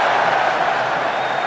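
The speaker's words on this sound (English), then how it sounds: "Crowd enjoying this" A rugby crowd at an England versus France international friendly roars in a steady, dense wash of cheering, broad and sustained for a brief moment.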